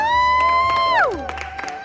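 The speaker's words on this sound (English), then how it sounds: "everyone who came to support me had to scream" A crowd of supporters screams and cheers loudly at a dressage horse show as a rider's name is announced, a high whooping shout sweeping downward over brief close noise.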